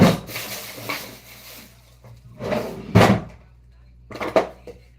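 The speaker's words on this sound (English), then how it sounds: "Let me check my drawers one more time." Wooden drawers are pulled open and rummaged through in a search for bonding glue, with scattered rubbing, sliding and knocking sounds coming in bursts at close range.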